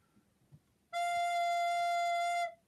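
A recorder sounds a single steady E note, starting about a second in after near-silence and holding smoothly for around a second and a half before stopping. The tone is clear and breathy with strong harmonics, played alone.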